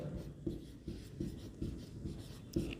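Marker or chalk writing on a board during a lesson, with short rubbing strokes and taps in an irregular rhythm, close and fairly quiet, with no talking.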